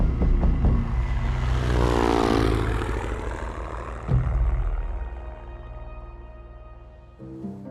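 Small propeller aircraft engine in flight over remote Papua, Indonesia, a loud, steady, droning hum heard close up from inside, its pitch shifting slightly as it carries on alone without speech.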